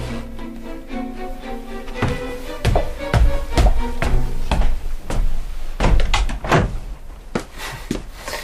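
An interior door in an old bookshop, at the top of the stairs, is handled with a series of loud close knocks, thuds and latch clunks over a low steady hum.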